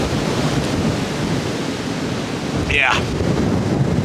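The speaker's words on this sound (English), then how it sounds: "Well, the wind came back with a vengeance." Strong wind gusting hard during a severe thunderstorm around a truck camp, a loud continuous roar buffeting the microphone, with a brief word spoken partway through.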